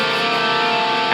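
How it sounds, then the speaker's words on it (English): An electric guitar chord with the open A string added rings out as one sustained, loud, steady strum with no talking. "adding the open A string in there."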